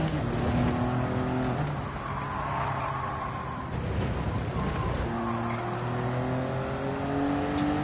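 Road car engine in Gran Turismo 7, a four-wheel-drive car that handles more like front-wheel drive, droning steadily with rising and falling revs through shifts, continuous and fairly close, with no talking.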